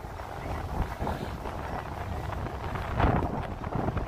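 Cold wind buffets the microphone in steady rumbling gusts during a New Year evening walk through Yokohama, Japan, with a stronger surge near the end and no talk.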